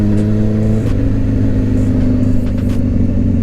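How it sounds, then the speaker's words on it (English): An early 2000s Japanese sport bike engine holds a loud, close, steady drone, with a slight shift in pitch partway through as the throttle changes. "So what's it like to daily ride an early 2000s sport bike?"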